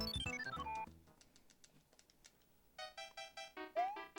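Alert chimes and short tonal jingles from a livestream gift-subscription notification, a bright descending sequence at the start, then a run of repeated rhythmic beeps and a rising tone near the end, with no talking.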